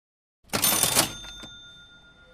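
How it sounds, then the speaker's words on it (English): A cash register cha-ching sound effect starts after a moment of silence with a bright rattling burst and a ringing bell tone that fades slowly. "that first sound was kind of like a cash register sound. It was like cha-ching."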